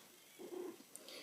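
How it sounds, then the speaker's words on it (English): A pet cat named Buster lets out a single short, soft, low vocalization, faint and nearby against quiet room tone, with no one talking. "Oh, hey, Buster. Sorry, it's my cat over here."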